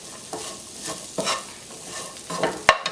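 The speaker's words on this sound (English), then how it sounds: "In goes that okra, and all we're going to do now is toss it around in this lovely curry base that we created." Okra being stirred and tossed through a sizzling vegetarian curry base in a pan, a few scraping stirs over a steady frying hiss, with a sharp clatter near the end.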